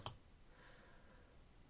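A single crisp mouse click at the very start, close and clean, followed by quiet room tone.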